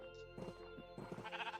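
Sheep in the TFC video game bleat in two short bursts, each a wavering, nasal call, with a quiet ambient backdrop between them.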